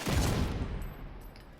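A single loud gunshot in the video game Tom Clancy's The Division 2, a heavy close blast followed by a fading rumbling tail.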